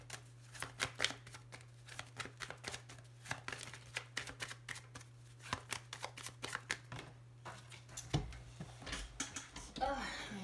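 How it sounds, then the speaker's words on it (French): A deck of playing cards being shuffled, with quick crisp riffles and flicks in rapid bursts, then cards scattering and slapping onto the floor near the end, close and moderately loud over a steady low hum. "il faut que j'ai des cartes qui sautent par terre"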